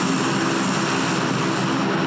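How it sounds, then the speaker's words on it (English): A propeller airplane passing overhead during a match of the video game PUBG, a steady broadband engine drone with a low hum, holding loud and constant the whole time. "We're going to hear that plane go right over us."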